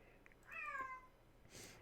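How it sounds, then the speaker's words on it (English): Pet cats meow in a quiet room, one clear drawn-out meow followed by a fainter, breathier call, soft and close with no talk over them. "My cats are just making all kinds of noise"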